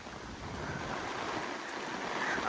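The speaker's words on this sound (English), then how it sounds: "So we're getting these really heavy showers blow through." Heavy monsoon rain sweeping through Charles Darwin National Park, a steady, broadband hiss of downpour mixed with gusty wind roar, close and constant throughout.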